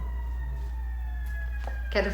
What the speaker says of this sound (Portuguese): Ih, peraí, tem uma ambulância passando.